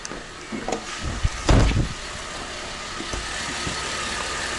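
A Buick Enclave engine runs at idle in a steady low hum, with a few brief louder knocks and rustles near the start before it settles into an even drone.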